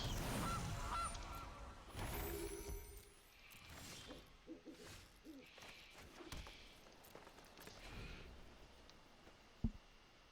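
Honking of the Gilded Goose card in the Magic: The Gathering video game, brief goose calls scattered through a busy mix of game music and effects.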